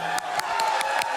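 A live audience at a Portal 2 speedrun event cheers and screams in a continuous roar, punctuated by several short, sharp bursts in quick regular succession.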